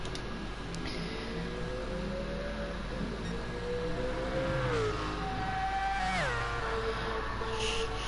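The grunting V8 engine of Kieran's Apple Mercedes race car in a sim racing event, revving through several rising and falling gear changes, steady and moderately loud with a constant low hum beneath.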